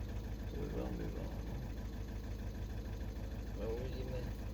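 A VW 1.6 TDI diesel engine idles with a steady, close low rumble and a faint knocking injector, while people talk over it.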